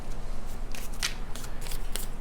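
Tarot cards rustle and snap as one is pulled from the deck, a few crisp, close papery flicks over a steady low background hum, with no talking.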